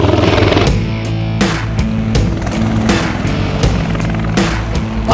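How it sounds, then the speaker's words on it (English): V-22 Osprey tiltrotor aircraft landing close by, its rotors producing a loud, steady low throbbing drone with repeated broadband whooshing pulses, heard alone without talk. "we have an Osprey and it's landing right in front of us right now"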